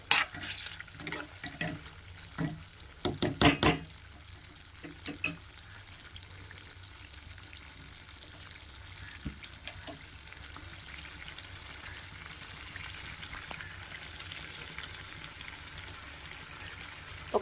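Oil heating in a pan for homemade hair oil sizzles and crackles softly, with a burst of sharp pops and stirring clatter early on, then a steady faint fizz for the rest.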